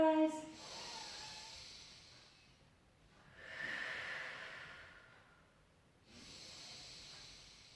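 Slow, deep breaths during an intermediate pilates class: a soft inhale, a long pause, then two more airy, hissing breaths close to the mic, evenly spaced and alone without talk.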